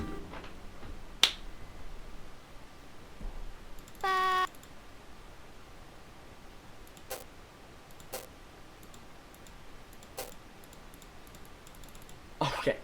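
Sparse single computer mouse clicks while playing the visual novel Doki Doki Literature Club, about half a dozen sharp, isolated ticks spread irregularly over quiet room tone.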